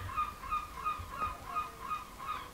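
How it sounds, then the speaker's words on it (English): Seagulls calling repeatedly in a steady rhythm of honking cries, fairly faint and distant, carried over a low background rumble. "That's seagulls, if you can hear them, probably can."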